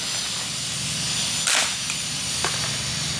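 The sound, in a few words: pellet gun shot into PVC target catch box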